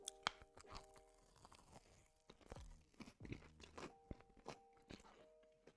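Crunchy bites into a pastrami sandwich with mustard, several sharp crisp crunches followed by close chewing and crackling, with brief background voices underneath.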